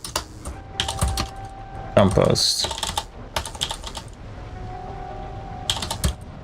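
Bursts of typing on a computer keyboard, a player working at a keyboard set off to one side, with clusters of clicks spread across the stretch and a voice speaking briefly among them.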